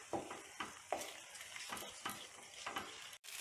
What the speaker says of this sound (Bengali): সেটাকে ভালো করে মিক্স করব।